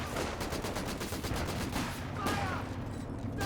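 Vickers machine gun in Company of Heroes 2 fires in dense, continuous rapid bursts, loud and sustained, mixed with other battlefield gunfire throughout.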